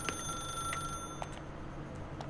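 A telephone rings in The Stanley Parable: Ultra Deluxe, a steady electronic bell tone with faint repeating pulses over a low background hum, heard alone without speech.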